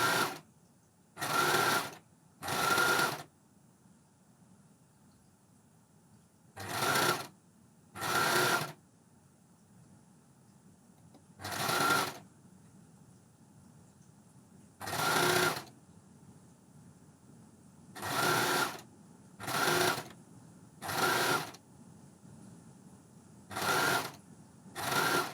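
A coverstitch machine sews binding onto a garment neckline through a double fold binder, in about ten short loud bursts of steady mechanical whirring separated by pauses, with no voices.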